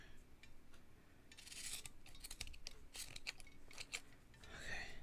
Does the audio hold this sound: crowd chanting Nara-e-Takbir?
no